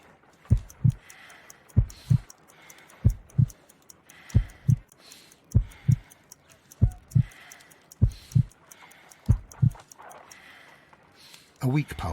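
Slow, steady heartbeat in the Sherlock Holmes: Crimes and Punishment video game, paired lub-dub thumps repeating about ten times, close and prominent over a faint ticking background.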